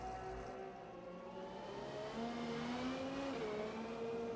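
Race cars including a McLaren Senna in a GT1 endurance race at Silverstone in a racing video game, engines droning and revving with rising pitch as the cars accelerate, steady and continuous.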